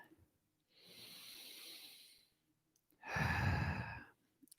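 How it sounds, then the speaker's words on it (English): Two slow, close yoga breaths come through: a soft, airy inhale followed by a louder, heavier exhale that sounds like a sigh, with silence between them. "Take a breath."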